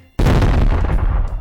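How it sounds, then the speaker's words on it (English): A single loud explosion from a kitchen area bursts suddenly out of near silence as a sound effect, then a rumbling, decaying roar trails off. "Suddenly, we all heard a loud explosion from the kitchen area."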